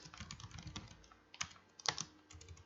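Quick, uneven keystrokes clatter on a computer keyboard with no voice, including a few sharper louder taps near the end.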